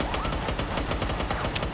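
Turret gunfire in Uncharted: Golden Abyss, a rapid, continuous stream of automatic shots with a dense rhythmic rattle, loud and close, ending with a brief sharp high ping.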